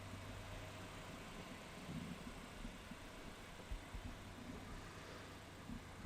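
A car engine runs steadily at low revs as a teenage driver sets off alone on her first drive to school early in the morning, a constant low rumble with no voices.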